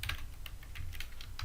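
A name is typed on a computer keyboard: rapid, soft, close-up key clicks in an uneven burst over a low hum, with no speech.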